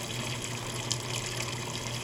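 Speed Queen top-load washer filling with water for a regular cycle with five pairs of jeans, a steady moderate rush of inflowing water that holds even and unbroken throughout.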